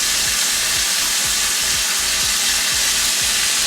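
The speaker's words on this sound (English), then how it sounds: "this is when we go ahead and add our butter mixture" Chicken sizzles loudly in a pan with a butter mixture: dense, constant frying hiss with a repeating low tapping rhythm, close up and with no talk.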